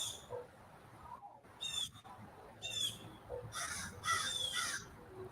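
Several crows caw harshly in the woods, a loose series of rough calls from more than one bird, some nearer and louder, others farther off, over quiet outdoor background.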